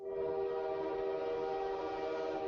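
A train horn blaring loud and steady as a train passes, one long sustained tone over the rumble of rail cars.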